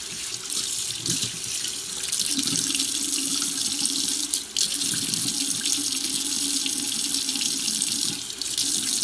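Tap water runs steadily into a sink while something is rinsed off, a continuous close hiss of flowing water with slight splashing changes throughout.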